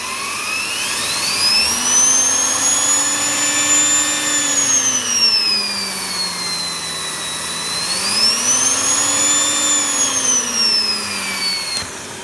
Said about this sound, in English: If I just plug this turbo brush in, we can see this spinning